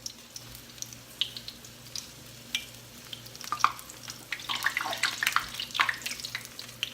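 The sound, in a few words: apple fritters frying in hot oil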